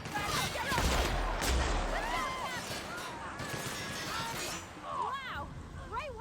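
Energy weapon gunfire erupts in a firefight in the sci-fi game The Outer Worlds, with loud bursts early and scattered impacts after, under steady excited talking.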